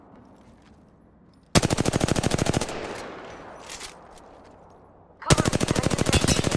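Rapid automatic gunfire from a video game shooter rattles in two loud, fast bursts, with a rougher stretch of scattered shots and noise between them; a voice speaks briefly.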